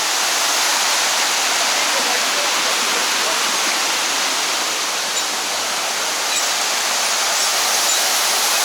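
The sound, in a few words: Empress Falls waterfall, Wentworth Falls, Blue Mountains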